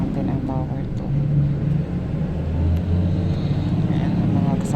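A driving school bus in the UAE rumbles along, heard from inside the cabin as a steady low engine and road drone while people talk over it.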